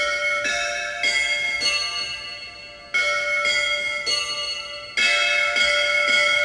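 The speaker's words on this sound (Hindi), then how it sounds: "डी नोट का घंटा बजेगा।" A temple bell voice played on a Roland XPS-60 keyboard at the D note rings out in repeated loud, metallic strikes, each ringing on and decaying before the next, with no talk.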